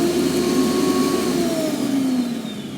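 Blade of a CookingPa smart cooking machine spinning on turbo, a loud, steady high-speed whirring roar that holds level and then drops slightly in pitch near the end, with no talking.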